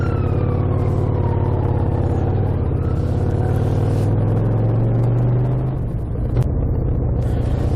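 An emergency vehicle with blue lights passes, its faint siren tone drifting downward beneath the loud, constant rumble of a nearby idling motorcycle engine.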